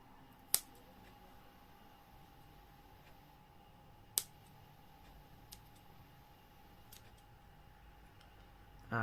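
Scissors make a few sharp, isolated snips while cutting a small template piece for Batman gauntlets, separated by quiet pauses, with a faint rustle near the end.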